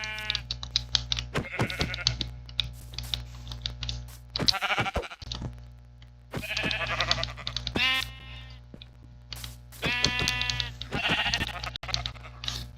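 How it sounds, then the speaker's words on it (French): Sheep in the video game Minecraft bleat repeatedly, several wavering baas spaced across the stretch over a low steady game background hum, with occasional clicking keys between them. "Yes, un autre mouton"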